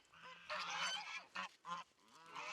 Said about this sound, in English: She's a beautiful goose, and she was born at our old farm.